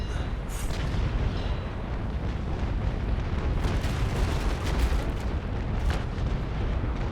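Ship cannon fire in the naval combat game Naval Action during a fleet battle, a continuous dense roar of booming shots and rumbling blasts with a few sharper cracks standing out, loud and unbroken throughout.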